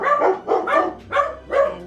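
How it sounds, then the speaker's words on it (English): A pet dog barks four times in a steady rhythm, loud and close, each bark sharp with a short pause between, and no one speaks. "there's no video without my dog's barking"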